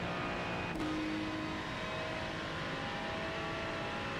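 A Ferrari race car engine in the iRacing simulator drones steadily at high revs, a continuous loud tone with a brief shift in pitch early on.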